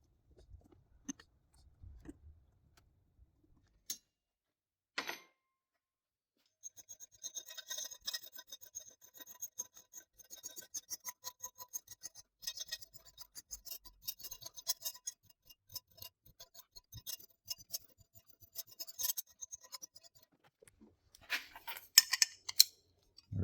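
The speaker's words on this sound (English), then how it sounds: "Now I just need to mark carefully where I'm going to hand file the hex shape into that." A hand file rasps a hex shape into a metal part in a workshop, the strokes coming in steady rapid bursts after a few scattered knocks and clicks, close and fairly loud.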